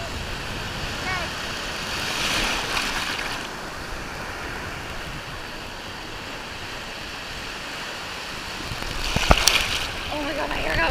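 Big ocean waves surge and break at a Cancun beach, a steady loud wash of surf with wind buffeting the microphone and one sharper crash near the end.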